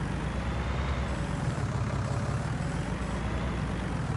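Small Fiat tractor engine in Farming Simulator 19, a steady, loud low diesel rumble that holds at an even level throughout with no break.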